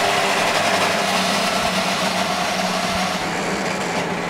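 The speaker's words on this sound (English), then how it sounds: "Drivers, start your engines." IndyCar race cars fire up their engines at the Indianapolis Motor Speedway for the 2024 Indianapolis 500, blending into a loud, steady, dense roar with crowd ambience and no clear talk.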